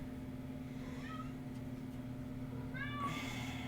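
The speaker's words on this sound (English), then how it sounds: "My cat is really trying to beat down my door." An indoor cat trying to get through a door lets out a faint, short meow, then a louder, rising meow a couple of seconds later, heard over a steady low electrical hum.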